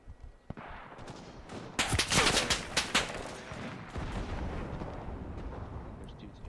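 Gunfire in the WWII shooter Enlisted: several sharp shots cluster in a loud burst near the middle, with a busy battle bed of distant firing around them.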